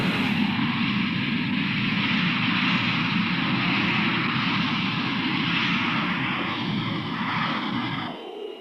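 B-52 jet engines roar steadily in archival Strategic Air Command training footage, a loud, continuous broadband rumble and hiss that fades slightly near the end.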